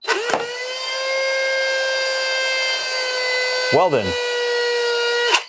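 A Shelby Destroyer foam blaster spins up with a steady high motor whine and fires wafers in sharp bursts at the start and near the end, with a brief spoken remark.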